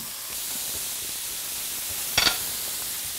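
Adobo-seasoned food sizzling in a pan as it is flipped, a steady broad hiss throughout with a brief louder clatter and spit near the end.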